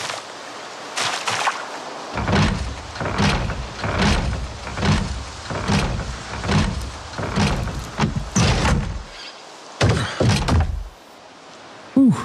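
In the video game Project Zomboid, a locked door is tried repeatedly, producing a long series of loud, rhythmic rattling thunks about every half second with brief pauses between bursts.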